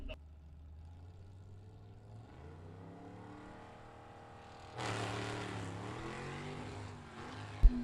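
A vintage drag race car accelerates down Byron Dragway, its engine note rising through the gears, catching and climbing again, then surging louder and rougher at full throttle.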